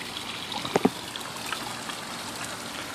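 Water from a pond pump trickles off a rock edge in a soft, steady faint stream, with a couple of brief clearer drips standing out early.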